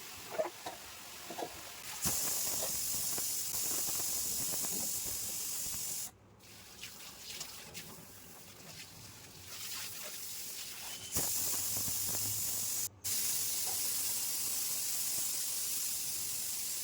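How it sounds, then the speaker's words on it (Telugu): Tap water runs in bursts over dishes being washed in a kitchen sink, with steady hissing spray broken by brief pauses and soft clinks of bowls, fairly close and without talk. "నేను సింక్లో ఉన్న గిన్నెలన్నీ కడిగేస్తున్నాను"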